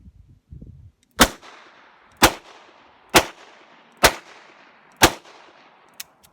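Five loud double-action shots from a Taurus Public Defender Poly revolver firing .45 Colt, spaced about a second apart at an outdoor range, each with a short echoing tail, followed by a faint click.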